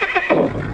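A nervous horse gives a short, shrill whinny that quavers and then drops into a rougher snort, close and loud.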